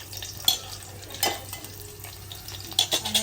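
Garlic frying in hot oil in a home kitchen sizzles and crackles steadily, with a few sharper pops and light stirring clinks close by.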